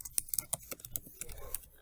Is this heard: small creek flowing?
no